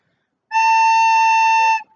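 A single sustained recorder note A, pure and steady for about a second and a quarter, close and clean with no talk.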